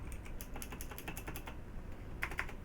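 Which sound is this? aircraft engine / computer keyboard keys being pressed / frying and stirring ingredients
computer keyboard keys being pressed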